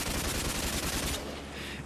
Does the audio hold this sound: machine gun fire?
yes